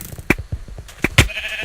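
Sheep bleat in the video game Sheep Quest, several short close bleats scattered over under two seconds, along with a few soft thuds.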